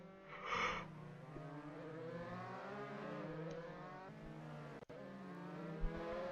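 Race cars in a racing video game thread through the Monaco chicane, engines droning and shifting pitch as they brake and accelerate, with a sharp click near the end.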